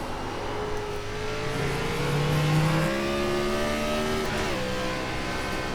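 Gen 4 Cup race car engine in iRacing at Watkins Glen, a loud steady roar with rising, shifting harmonic tones as it revs and gears change, holding close and continuous without pause.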